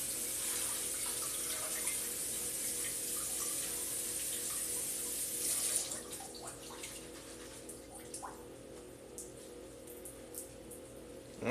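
Tap water runs steadily to rinse baby spinach for a lasagna, a hissing stream for about six seconds, then stops, leaving faint drips and small clatters close by.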